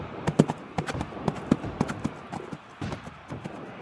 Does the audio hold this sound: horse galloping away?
yes